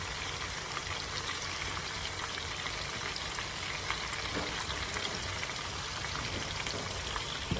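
Meatballs sizzle and brown in a pan, a steady dense crackle of frying fat with scattered pops throughout, close and continuous with no talking.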